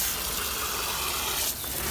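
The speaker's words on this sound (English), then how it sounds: "So what I'm actually going to do with this one is hose this off" Water from a garden hose washing clay off the roots of a Eureka lemon tree, a loud continuous gushing spray with a brief shift in tone near the end.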